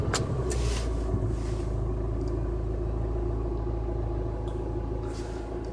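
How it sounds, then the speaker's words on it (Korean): Hyundai Tucson ix engine turning over and settling into a steady low rumble, heard from inside the car, with a few sharp clicks at the start and no talk. "시동을 걸겠습니다."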